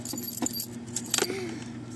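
A set of keys jangles in a few short, bright bursts close by, over a low steady hum that may come from a car.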